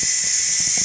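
A Ninja Foodi pressure cooker on quick release, venting steam in a loud, continuous high hiss that stays level and close throughout.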